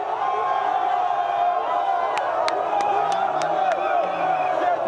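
An ecstatic crowd cheers along a procession for Blé Goudé, a dense continuous roar of voices and whoops, with a few sharp whistles or horn blasts cutting through partway.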